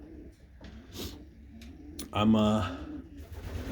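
Pigeons cooing in a loft with newly hatched young birds, a soft low coo rising near the middle, mixed with rustling and a brief spoken word.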